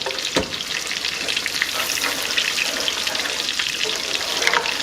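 Poblano blend frying in melted butter in a pan, a steady loud sizzle and crackle with a brief clatter near the start and no talking.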